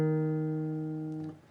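A single guitar note picked on the A string at the 7th fret rings alone and decays slowly before a brief string noise at the end.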